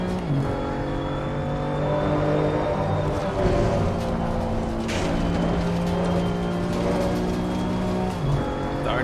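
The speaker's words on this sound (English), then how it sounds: "Hit the rev limiter" BMW M2 CS race car in Assetto Corsa Competizione at Laguna Seca, its engine droning at steady high revs, with a tonal whine and a brief shift in pitch near the middle, held loud and close for several seconds.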